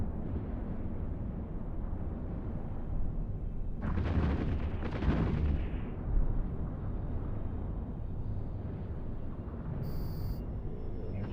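Missile explosions in Eve Online burst out as two heavy, rumbling blasts in quick succession over a steady low drone, followed by a fainter crackling aftermath.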